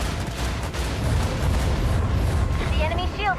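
Ship weapons firing in Warhammer 40k: Rogue Trader, a loud rumbling roll of booming artillery-like blasts sustained throughout, with a voice talking over it and brief warbling tones near the end.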